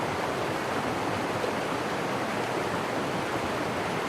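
A small woodland stream flows in a steady, broadband wash, close and constant with no pauses and no voices.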